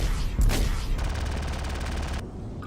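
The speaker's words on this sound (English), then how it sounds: "at least my gun turret is not completely dead. I can still shoot from it" Rapid automatic fire from a damaged gun turret in Star Citizen, opening with a heavy thump then a fast, even stream of shots lasting over a second before cutting off, loud and close, no speech.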